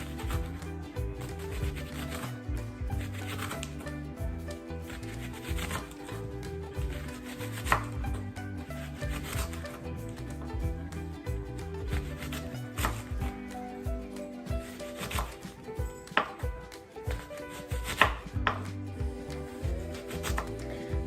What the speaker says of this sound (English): we're going to start chopping it